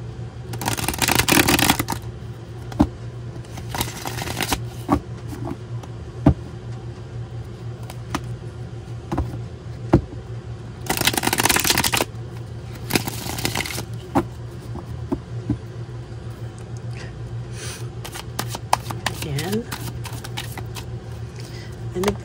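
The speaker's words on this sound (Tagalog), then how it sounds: "Balasahin din naman po natin ito." A deck of playing cards is riffled and bridged in two bursts of crisp fluttering, separated by quieter handling taps and soft clicks, close up over a steady low hum, with no one talking.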